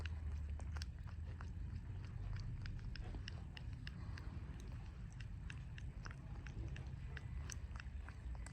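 A newborn lamb chews while being fed milk, making a steady series of faint, soft clicking smacks over low background rumble, close up and with no speech.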